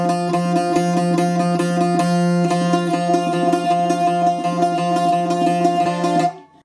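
Two bouzouki strings sound the same F note together with rapid tremolo picking, ringing steadily for about six seconds before cutting off.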